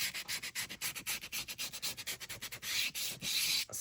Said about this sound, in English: sand down the edges.